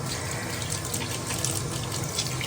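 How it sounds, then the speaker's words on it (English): Warm water pours steadily from a tap into a sink while a face mask is rinsed off, a constant close splashing rush with no breaks and no voices. "Just going to use warm water to take this off."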